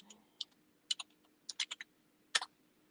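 Fast bursts of typing on a computer keyboard, crisp clustered key clicks in quick irregular runs separated by short pauses, close and clear over a quiet background with no talking.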